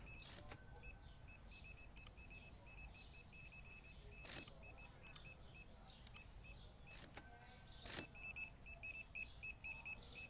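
An alarm goes off inside a busy store in Supermarket Simulator, a string of short electronic beeps and chirps repeating over steady background ambience, with a brief cluster of pulses near the end.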